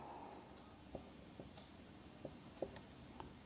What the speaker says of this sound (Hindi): यदि मैं यहाँ पे लिखता हूँ